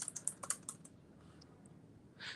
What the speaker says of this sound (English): I'm typing on my laptop